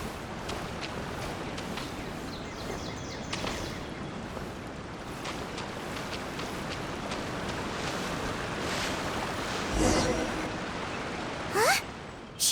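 A small waterfall in Genshin Impact pours in a steady, broadband rush that holds across the whole stretch, with brief louder splashes or rustles near the end.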